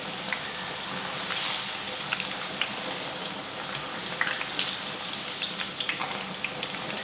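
French fries frying in hot oil, a dense steady sizzle and fine crackle with scattered brief pops, continuous and close throughout.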